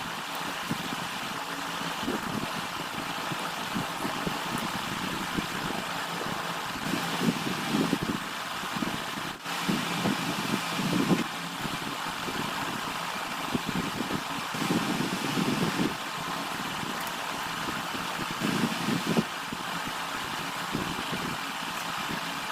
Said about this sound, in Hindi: अब मैं पंखा चालू करा था, बहुत गर्मी लगा थे